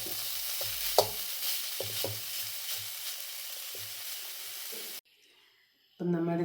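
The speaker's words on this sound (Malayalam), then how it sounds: "അഞ്ചാറ് മിനിറ്റ് ഇങ്ങനെ ഇളക്കി കൊടുക്കണം." Jackfruit core stir-fry being stirred in a pan, with a steady sizzle and scattered scraping strokes for about five seconds, then a brief near-silence before a different sound begins; no speech over the frying.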